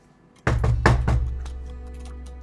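A fist pounds on a kitchen door, with four heavy thumps in quick succession followed by a fainter knock, each leaving a low booming resonance that rings on afterward.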